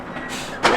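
A BMW M340 car engine cranks and catches with a sudden loud burst near the end, after a short stretch of low rumbling background, close by.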